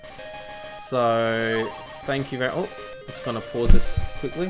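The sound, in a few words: phone ringing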